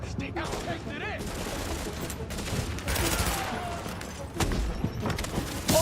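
Bursts of suppressive gunfire from The Division video game, with rapid rattling shots and heavy thuds over a busy combat mix, and voices speaking amid the shooting.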